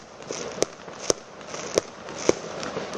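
Fireworks bang around a football pitch as a series of four sharp, evenly spaced pops and cracks over a faint crackling background hiss, with no voices.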